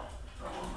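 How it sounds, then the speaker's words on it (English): A pet dog barks and whimpers briefly indoors, close by and fairly clear, in a single short burst of sound. "Sorry again, folks, for my dog."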